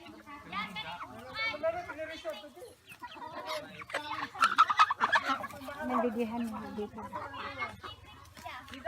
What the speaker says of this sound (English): these are our chicken and duckies